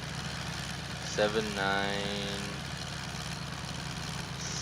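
A small, slow tractor idles steadily in Farming Simulator 2015 as a low even engine drone, with a brief tonal mechanical whine rising over it and someone talking briefly.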